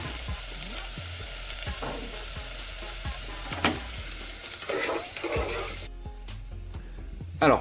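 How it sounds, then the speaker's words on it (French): Chopped onion sweating in a pan over medium heat for a risotto with pan-fried broccoli, giving a steady close sizzle with occasional stirring scrapes that quiets near the end. "pendant que votre oignon est en train de cuire"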